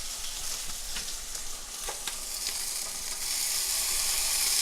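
Beans frying in a hot pan give off a steady, hissing sizzle that swells slightly louder toward the end, with occasional soft stirring scrapes and no voices.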